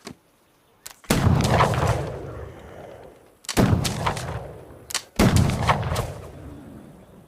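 Long-rifle shots boom out loudly and nearby: three heavy reports, each followed by a long, rolling echo that fades before the next, with a couple of faint clicks between them.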